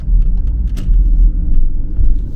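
A car drives into a residential area of a small Minnesota town, its steady low engine and road rumble loud and continuous throughout, with no talking.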